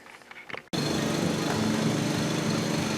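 A lawn mower cuts grass outside, starting abruptly after a short quiet stretch and then droning loudly and steadily, close by, with no talk over it.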